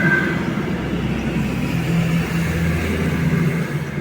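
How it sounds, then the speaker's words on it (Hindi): A heavy truck on the road outside rumbles loudly and steadily, a continuous low engine drone that stays strong throughout without clear rise or fall. "ये ट्रक नहीं लगता हेलीकॉप्टर चला रहा, अभी तो सड़क पे है तब इतना आवाज़ इन लोगों का"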